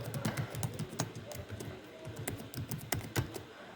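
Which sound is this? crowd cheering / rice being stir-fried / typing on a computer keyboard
typing on a computer keyboard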